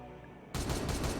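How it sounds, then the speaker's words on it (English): Gunfire in the Warhammer 40K Regicide video game: a short quiet lull, then a sudden loud, sustained burst of rapid shots that keeps going to the end. "Fire off a couple shots."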